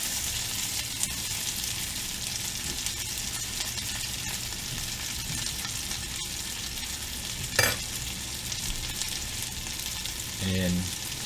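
Breaded chicken tenders sizzle and crackle steadily in a hot pan after being flipped, a dense continuous frying hiss with one brief clink near the end.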